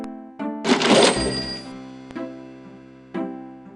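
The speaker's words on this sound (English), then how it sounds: "Gabriel opens the cash register to examine the take." Cash register drawer opening in the Gabriel Knight adventure game, with a loud rattling clatter and ringing chime followed by a few softer clicks and taps, no voices.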